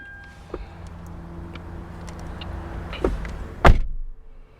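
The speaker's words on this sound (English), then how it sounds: "Let me close the door." A 2014 Lexus GX460 SUV door swings shut with a solid, close thunk near the end. Fainter clicks and rustles come before it, and a quiet hum runs underneath.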